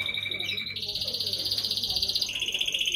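Two brother songbirds trading high, bright trilling phrases in a rapid pulsing rhythm, close and clear, with a faint low hum beneath.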